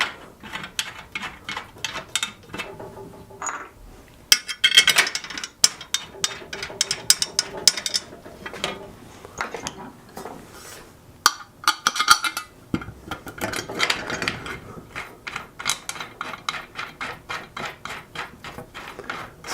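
Legs being fastened onto the front of a pinball machine cabinet: steady ratcheting and clicking of a tool, with metallic clinks and rattles in quick bursts, close and fairly loud, broken by short pauses.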